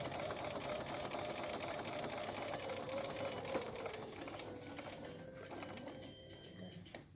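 A sewing machine runs continuously on a small straight stitch, stitching quilt binding across a corner; a steady close mechanical whir that eases slightly near the end.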